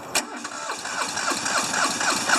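A smoky diesel engine cranks on a cold start, a quick sharp burst followed by uneven chugging as it struggles to catch, loud and close with no talking.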